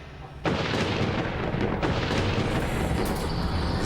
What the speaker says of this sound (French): la porte s'ouvre